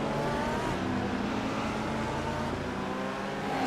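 A McLaren race car in iRacing, an Australian Sports Sedans race at Winton, roars with a steady, dense engine and exhaust drone, loud and continuous throughout with no talking.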